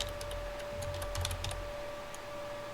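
Code is typed on a computer keyboard, quick, light key clicks coming in short irregular bursts, close and faint over a quiet steady hum.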